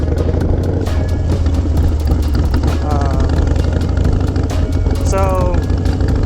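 Harley motorcycle engine running loud and close as it is readied for a wheelie, a steady rumbling idle with brief rising revs and clattering ticks throughout.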